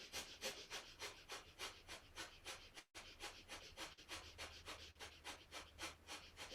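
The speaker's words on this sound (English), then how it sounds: "we'll do breath of fire here. Rapid breathing, pumping the navel to the spine on the exhales" Breath of fire in a yoga session, rapid rhythmic pumping breaths through the nose, about two per second, steady and close, with a brief break partway through before the panting resumes.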